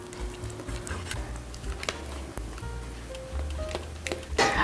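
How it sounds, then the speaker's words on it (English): Cheese sauce is stirred constantly in a pan over medium-low heat, giving a steady soft sizzle with light scraping and occasional clinks of a utensil against the pan, with no voices. "Cook this cheese sauce over medium-low heat for about 8 to 10 minutes, stirring constantly until that cheese is completely melted."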